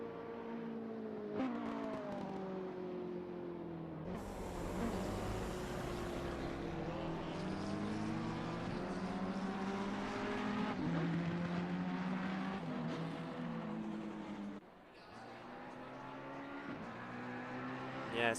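Ferrari race car engine at Laguna Seca in a racing video game, a loud sustained whine rising and falling through gear changes over about eighteen seconds, with a brief dip near the end.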